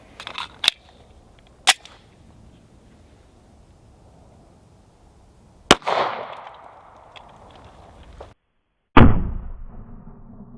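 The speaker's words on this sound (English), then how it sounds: "So we're going to shoot that one at a target and see what happens." Sharp 9mm gunshots firing Sierra 115 grain jacketed hollow point rounds at a milk jug target, several loud single cracks spaced apart with a short decay after each, no talk.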